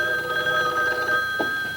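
A telephone bell rings loud and close in a 1957 radio detective drama, as one continuous metallic trill.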